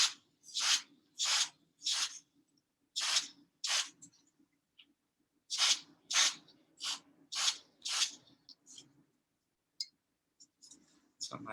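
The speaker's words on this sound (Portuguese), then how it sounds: "com o nosso spray congelante, não muito perto, eu tenho que secar este chocolate rapidamente" Short hissing bursts of freezing spray aimed at chocolate to set it, about a dozen quick puffs in two rhythmic runs separated by a brief gap, close and crisp over a quiet background.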